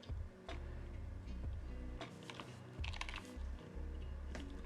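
Typing on GMK Jamon Round 1 keycaps fitted to a Hex 4B mechanical keyboard, close and clear, with uneven bursts of clacky keystrokes and short pauses between them.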